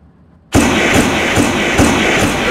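Fireworks bursting at a race track just before the start, beginning abruptly and continuing as a dense, loud crackling roar with repeated heavier thumps roughly every half second.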